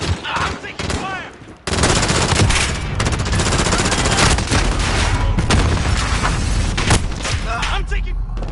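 Sustained loud gunfire in a Call of Duty: Modern Warfare multiplayer match, with rapid automatic bursts and booming shots filling the whole stretch after a brief lull, with voices in the mix.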